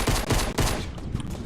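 Hand cannon fire in Fortnite, a quick burst of several sharp, loud shots in close succession, heard alone without talk.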